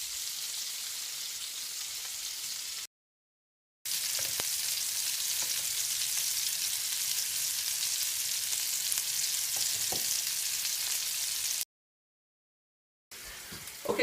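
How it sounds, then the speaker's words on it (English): Meatballs frying in a pan, a steady bright hiss of sizzling fat with occasional small pops and stirring sounds, close and continuous apart from two brief silent breaks. "our meatballs have been cooking in this pan here for about 5 minutes or so now"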